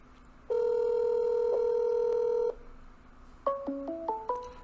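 A Google Voice call connects with a long steady electronic tone for about two seconds, then a quick run of short stepped beeps that ring out near the end.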